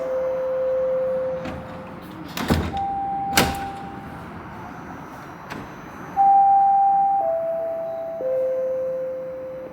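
Subway train doors on a Toronto TTC line slide shut with a steady electronic chime tone, then thuds of the doors meeting, followed by rising motor whine tones as the train prepares to move; no talk.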